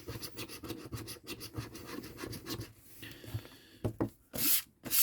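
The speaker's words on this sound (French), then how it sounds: "on gratte directement toutes les lettres" Coin scratching the latex off the letter panel of a French FDJ lottery scratch card, a close dry rubbing rasp in repeated short strokes, loudest in the final bursts.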